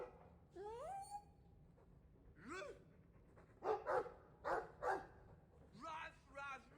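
A dog in the video game Dragon Age 2 barks and yips several times in quick pairs and short bursts, close and fairly faint, with whimpering tones between some of the barks.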